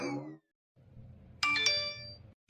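A phone chimes with two quick bright message notification tones in succession, fairly clear and close, after a short voice and a moment of quiet room hiss.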